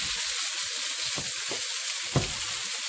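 Cube steak sizzles steadily as it browns in a hot frying pan for a gravy dish, a constant close hiss broken by a few soft thuds as pieces are flipped or moved.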